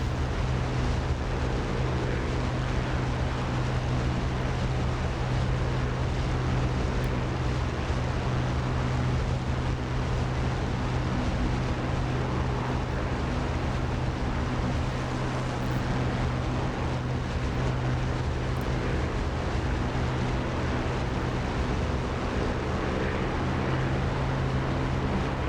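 A Spitfire's piston engine drones loudly and steadily in flight along the coast, set at 2,600 RPM and 4 lb boost, with a constant low hum and wind rush throughout.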